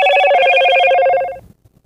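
A telephone rings with a bright, steady electronic trill lasting over a second, loud and close, then cuts off abruptly into near silence.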